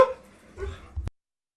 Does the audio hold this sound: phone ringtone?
no